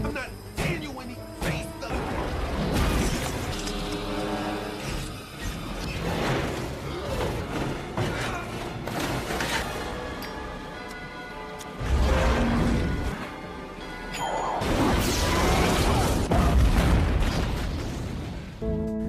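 A shark bashing against an oven's glass door: heavy, loud smashing and crashing impacts with booming, bursting hits, repeated throughout over dense action-film noise and music, with some talk mixed in.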